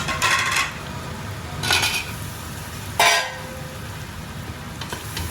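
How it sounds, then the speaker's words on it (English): Chopped onions and potatoes going into hot oil in a pan for a Punjabi yogurt curry tadka, with three bursts of sizzling and clattering against a quieter steady fry, up close. "I'm going to add the onions in now, and I'm also going to add the potatoes in."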